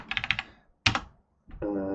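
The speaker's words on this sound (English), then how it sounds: "I'm moving it with the cursor keys, the arrow keys." Several quick key presses on a computer keyboard's arrow keys, a rapid cluster of close clicks followed by a single sharper tap, then a brief hum-like tone near the end.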